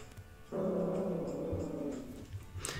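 A dog named Oscar growls in a low, sustained rumble lasting a couple of seconds indoors, fairly close, trailing off into quiet.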